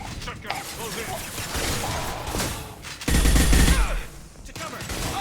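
Close-range shotgun blasts in Mass Effect 2 combat, a loud heavy burst landing mid-clip over dense battle noise and gunfire, with voices talking throughout.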